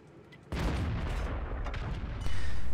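Tank gunfire in a combat video game: two heavy booming shots about two seconds apart, each with a long rumbling decay, loud and alone without speech.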